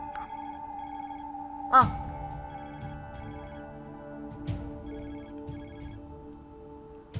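A mobile phone rings indoors in repeated pairs of electronic trilling bursts at a steady rhythm, with a sudden loud thud and a sharp exclaimed voice partway through.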